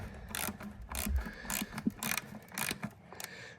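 A screw is tightened during kitchen island assembly, giving a series of short ratcheting clicks in an irregular rhythm, close and fairly quiet.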